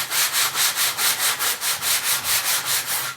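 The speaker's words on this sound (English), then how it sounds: "I'll just go through and just basically lightly sand the laminate to make sure there's no imperfections" Laminate countertop being lightly sanded by hand with a sanding block, steady rhythmic back-and-forth scrubbing strokes, about four per second, close and clear with no talking.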